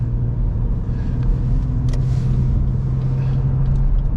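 A car pulls out and accelerates into traffic, a steady loud engine rumble holding throughout with road noise, close and continuous, no talking.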